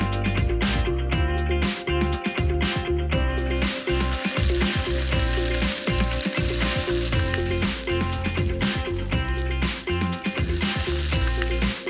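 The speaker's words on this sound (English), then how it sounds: "I'm just going to drizzle a little oil on the fish and just grill it for 1 to 2 minutes on each side" Whole snapper grilling in an oiled pan sizzles loudly and steadily throughout, with crackling pops and occasional stirring or shifting sounds, close up and with no one speaking.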